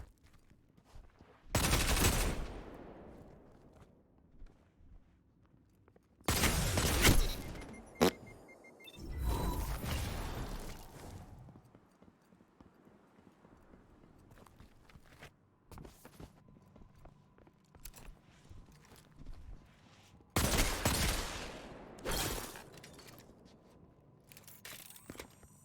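Submachine gun fire in a video game duel, heard as a few loud bursts of rapid shots separated by quieter stretches of footsteps and movement.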